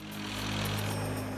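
Helicopter hovering steadily near power lines during live-line electrical work, a constant droning rotor and engine hum at moderate distance with no break.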